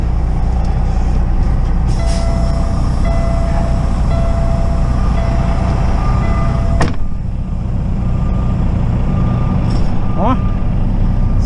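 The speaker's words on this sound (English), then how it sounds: "you know, where the fifth wheel locks" A Kenworth heavy truck's fifth wheel locks onto a trailer kingpin with one sharp metallic clunk near the middle, set against steady loud engine rumble and road noise.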